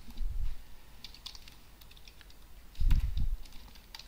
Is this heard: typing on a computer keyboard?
yes